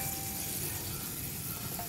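Hot oil with Nepali spices sizzles and spatters in a pan while a native chicken curry is cooked in Nepal, a continuous dense hiss at steady, moderate loudness with no voices.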